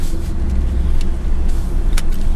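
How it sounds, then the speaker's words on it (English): A truck drives out of a port parking lot after passing through customs, its engine rumbling steadily and close throughout, with a couple of brief higher clicks or clunks from the cab and no talk. "We are in the truck with our luggage through customs and"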